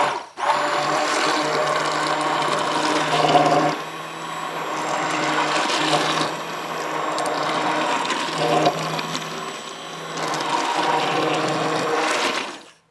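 A blender whirs steadily while processing a shrimp Alfredo cream sauce inside a Ninja Foodi pot, the loud motor hum broken by a few brief dips as the blade shifts.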